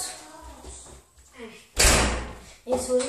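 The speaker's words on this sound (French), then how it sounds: "Ferme la porte." A door closes with a solid thud partway through, close by, following a little faint voice, with a brief knock-like sound afterward.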